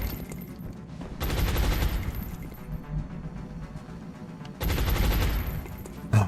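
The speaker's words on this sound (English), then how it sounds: "Suppressing fire on target." Suppressing fire in the video game XCOM Long War: two sustained bursts of automatic gunfire, each about a second long, separated by quieter game ambience.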